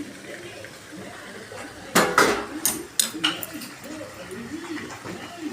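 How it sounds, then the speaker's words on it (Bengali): Chicken pieces and potatoes are tipped into spiced hot oil in a pan for chicken kosha, with a sudden loud clatter and a few sharp metallic clinks of the pan and utensils over a quiet kitchen background. "আমি এবার মাংসটা পুরো দিয়ে দেবো, কষবো। আলু মাংস পুরো দিয়ে দেবো এর সাথে।"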